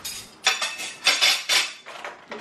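Plates and cutlery being put away in a home kitchen clatter in a series of sharp, close metallic and ceramic clinks, roughly five bursts in quick succession with no talking.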